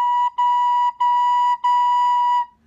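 A recorder plays four tongued B notes, clear and steady, each one separated by a brief break, close and alone.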